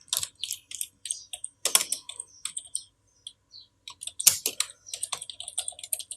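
Close, crisp keystrokes tap on a computer keyboard in irregular bursts with short pauses, as a name is typed into a software workspace field; no voices.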